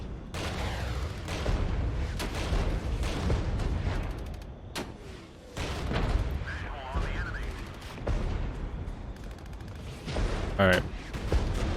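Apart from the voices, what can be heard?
gunfire and artillery in video game Regiments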